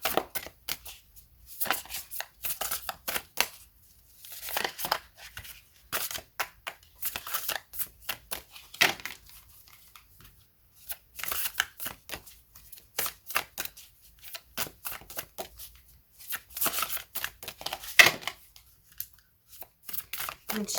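Tarot cards shuffled by hand in a long series of quick crisp riffles and slaps, near and clear, coming in bursts with short pauses between them and no voice over them.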